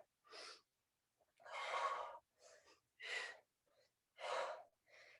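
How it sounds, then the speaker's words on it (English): Steady, audible breaths during a squat exercise: six separate inhale and exhale bursts, some short and some long, in a rough even rhythm. They sound close and clear, with silence between them. "Nice consistent breathing."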